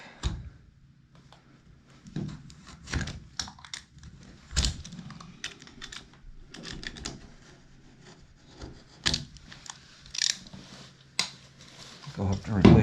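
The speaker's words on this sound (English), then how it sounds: "Cut the caulk." Old caulk along a tub and shower surround being cut and scraped away during a remodel, heard as scattered scratchy strokes and short rasping bursts with quiet gaps between them.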